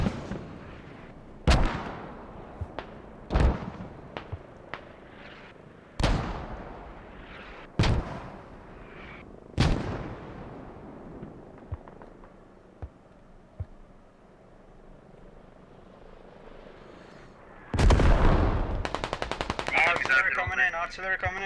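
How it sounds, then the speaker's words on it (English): Artillery strike in the military video game Squad, a run of heavy booming impacts spaced a second or two apart, then a quieter stretch with scattered small shots and a louder rumbling burst near the end. "Artillery coming in. It looks like... What is this artillery strike?"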